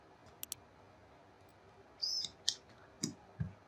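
A few faint, sharp computer mouse clicks on a submit button, scattered quick ticks over a few seconds in a quiet room.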